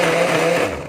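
A blender whirs steadily as it chops chili peppers, its jar still unwashed from blending garlic, the motor a continuous loud grinding whine that eases slightly as the one-second burst ends.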